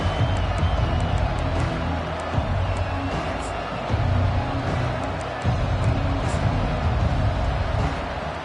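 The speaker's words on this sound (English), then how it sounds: "This crowd bringing the energy and noise early." A college football stadium crowd roars in a sustained, loud wall of noise after a touchdown, swelling in waves with scattered shouts, while a commentator talks over it.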